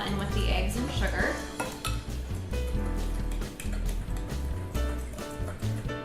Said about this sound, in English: Combine the butter and the vanilla in with the eggs and sugar.